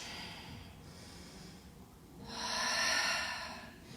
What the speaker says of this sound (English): Couple more breaths.